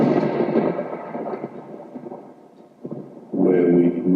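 Thunder rumbles as a sound effect in a radio station jingle: a heavy roll fades away, then a fresh loud crash breaks in near the end.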